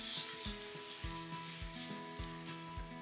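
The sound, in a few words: paneer pieces frying in oil in a kadai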